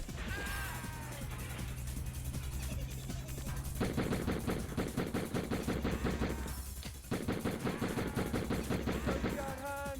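A shotgun fires repeatedly in Die Hard Trilogy, loud rapid blasts in quick succession over game music, with a short gap before the shooting resumes.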